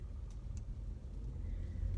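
A car on the drive home from the grocery store, its engine and road noise a low steady rumble from inside the cabin, soft and continuous.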